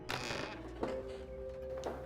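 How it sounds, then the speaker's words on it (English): A high, drawn-out squeaking creak, like a hinge or old wood under strain, repeats in a few short strained bursts, fairly close, with no talking. "Squeaks."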